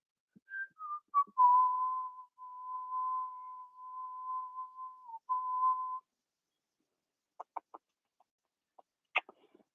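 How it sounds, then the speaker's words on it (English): A hungry pet whines to be fed, holding one long, steady, high-pitched whimper for several seconds at close range, then giving a scatter of short, faint squeaks and yips. No voices are heard. "I got to feed Frank. He's freaking out. I don't know if you guys can hear him, but he is whining."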